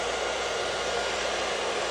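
A hair dryer set to warm heat on a low blow setting runs as a steady, even whoosh of air from start to end, no speech.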